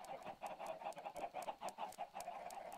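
Chickens in a semi-automated Minecraft chicken farm cluck in quick repeated bursts, a faint, steady chorus of short clucks with no talking.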